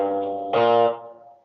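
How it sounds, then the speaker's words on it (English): Electric guitar through distortion sustains a buzzing note, then a brief noisy burst as a string is pressed into the fret, the tone thinning and fading away. "That's just a distortion catching the sound of me pushing the string into the fret."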